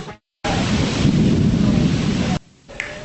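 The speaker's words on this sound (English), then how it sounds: "as that wind and that rain came pounding down" Heavy rain and wind from a derecho storm in Philadelphia's Spring Garden section, a loud dense roar lasting about two seconds. The roar cuts in abruptly and cuts out just as abruptly, with short quieter gaps before and after it.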